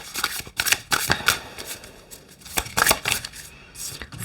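Tarot cards being shuffled to draw another card, several quick riffling bursts close by with brief pauses between them, and no talk.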